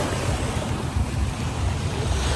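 Sea waves churn and slosh around a tour boat off a Krabi island in Thailand, a steady rough wash of water with low rumbling surges and wind noise, close and continuous with no talk.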